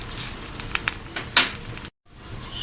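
Three eggs frying in a pan for an omelette, a steady close crackling sizzle with brief spits and stirring scrapes, broken by a short silent gap before the frying resumes.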